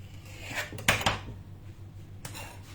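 A knife cuts through sablé pastry dough for a mini bûche, giving a couple of brief scraping, tapping strokes against a board, close and fairly quiet, with a short pause between cuts.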